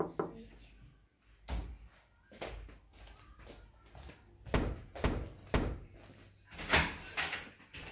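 Someone knocks on a door in a run of dull, irregular thuds, some faint and some firm, with rustling and a voice now and then.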